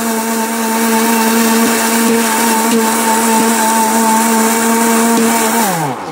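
Miyako electric multi-cooker grinding spices on pulse, a loud steady motor whine held for about five seconds, then winding down sharply as the pulse releases.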